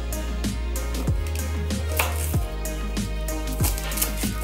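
Knife trimming the ends of a shallot on a cutting board, with several sharp close chops and taps in an uneven rhythm over steady background music.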